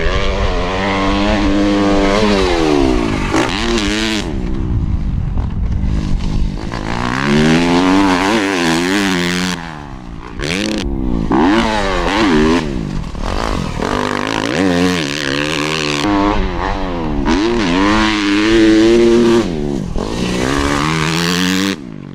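A 2018 Suzuki RM-Z250 dirt bike being ridden, its engine revving up and down in rising and falling sweeps, loud and close, running without a break and with no talk.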